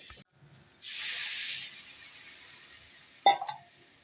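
Okra tipped into hot masala in a pan for vendakkai puli kuzhambu gives a soft sizzling hiss that swells for a moment and then settles into a quiet, steady fizz, with a brief clatter near the end.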